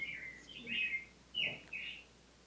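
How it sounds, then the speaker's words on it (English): A faint, old recording of a bird singing, made in Ithaca, New York, with a few short bright warbled phrases over a low hissy background. "You're listening to the earliest recording of a bird singing that was ever made."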